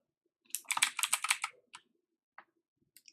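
Someone types a name on a computer keyboard: a quick burst of about a dozen close, crisp keystrokes, then a few scattered single key presses after a pause.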